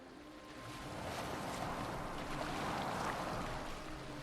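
A boat moves across water in Assassin's Creed Valhalla, giving a steady broadband wash of water and wind that swells slightly and holds constant, with no voices.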